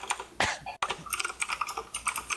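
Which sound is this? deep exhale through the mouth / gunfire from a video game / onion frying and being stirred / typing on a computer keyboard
typing on a computer keyboard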